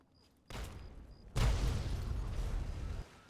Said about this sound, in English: Oh, yep, he's shooting.